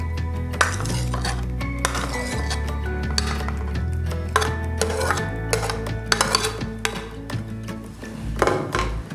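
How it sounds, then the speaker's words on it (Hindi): A utensil clinks and scrapes steadily against a bowl while Spanish omelette ingredients are mixed, including red pepper and fried vegetables. The sound is close and rhythmic over a low, continuous hum. "अब हम इसे अच्छे से मिक्स कर लेंगे।"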